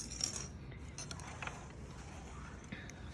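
A sewing machine back stitches through apron fabric, producing faint, quiet mechanical whirring and light clicking that stays soft and continuous throughout.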